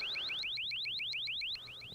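Car alarm sound effect in a short horror film: a rapid run of rising electronic chirps repeating at a quick even pace, fairly faint, stepping slightly quieter near the end.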